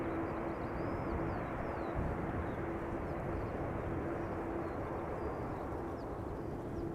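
Atlas Air cargo jet, just arrived from Miami, rolling out after landing at Amsterdam Schiphol: a steady, broad roar of engines and airflow holding at a constant level throughout, heard from a distance with a faint tonal hum underneath.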